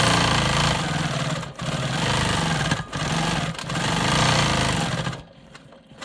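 A Quilt Maker Pro 20 quilting machine stitches free-motion swirls with a steady, dense motor whir and rapid needle buzz. The sound runs continuously up close with a few brief dips before trailing off at the end.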